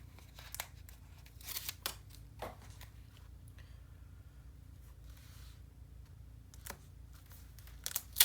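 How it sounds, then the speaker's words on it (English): Scissors snip the corners off a paper page for a Stamperia Sir Vagabond in Fantasy World craft layout, a few short crisp cuts and paper rustles spaced apart in a quiet room. "I'm going to cut the corners off."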